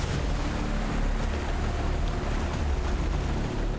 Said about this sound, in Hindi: झरने का पानी कई फीट ऊंचाई से नीचे गिर रहा था।